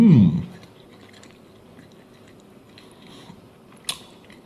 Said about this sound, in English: He makes some of the most disgusting fucking noises when he chews.